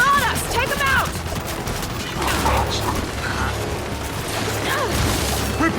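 Turret gunfire rattles in sustained fusillade bursts during Gears 5 combat, loud and continuous with mechanical clanks, while voices shout over the din.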